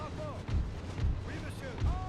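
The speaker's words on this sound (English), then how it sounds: "Unfortunately, Kirkman's gunner is coming under artillery fire" Artillery fire in a Napoleonic-era battle in the Napoleon: Total War game, with several dull low booms rolling out under battlefield noise and faint whistling tones, recurring roughly every half second to second.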